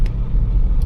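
A car engine pulls in first gear while climbing a rough uphill road, a steady low rumble heard from inside the vehicle, close and without speech.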